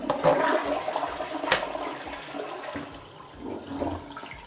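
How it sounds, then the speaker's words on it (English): A household toilet flushes with a loud initial whoosh and gurgle, then a swirling rush of water that tapers into a softer refill trickle, heard close up in a bathroom without talk. "Once we flush, take another look."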